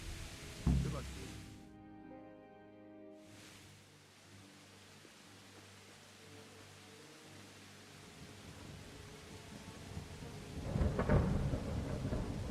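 Thunder rolls through a stormy night in Kingdom Come: Deliverance, with a loud crack near the start, a long low rumble over steady rain, and a second heavy boom toward the end, with game characters talking over it.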